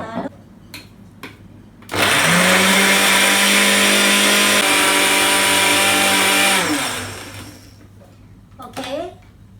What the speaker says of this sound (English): the blending of all ingredients is ready